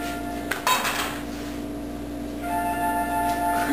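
Metal clatter and scraping as an omelet slides out of a Teflon pan, a couple of sharp knocks early, then steady kitchen hum with faint clinks.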